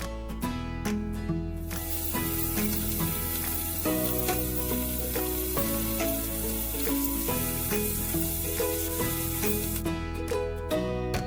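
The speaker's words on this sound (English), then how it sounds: "we can start shallow frying our chicken, skin side down first" Steady sizzling of chicken shallow frying skin side down in butter in a pan, continuous and fairly loud, with music playing throughout.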